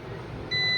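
A multimeter continuity check on an Oppo A53 phone's display backlight line gives a steady high beep that starts partway through, faint over low background hum.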